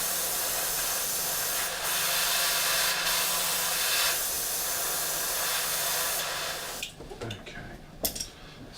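An airbrush blows a steady, loud hiss of metallic paint through its needle, with short bursts partway through, before the spray cuts off into brief scattered clatter near the end.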